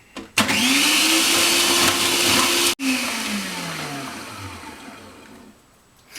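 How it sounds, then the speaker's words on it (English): Food processor fitted with a grater disc grating cassava (yuca): a loud, steady motor whine with a rising pitch that sharply cuts off, then restarts and winds down gradually as the blade slows, with no talking. "The food processor is fitted with the grater disc, and all we do is process and grate the cassava"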